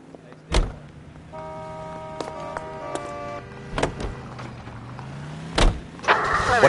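A car in the video game L.A. Noire: several sharp door thuds, then an engine starts and hums steadily at close range while a few clicks and knocks sound over it.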